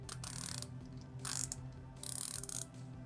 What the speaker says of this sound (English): Bezel action on here is pretty good.